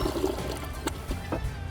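A Kohler toilet flushes during a flush-strength test, giving a fairly quiet rush and gurgle of water with a few splashy bursts.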